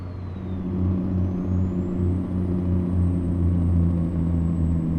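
A heavily modded 2150 hp truck engine in American Truck Simulator rumbles steadily and loudly, with a deep pulsing drone and a thin rising whine climbing to a steady high tone, alone without talk.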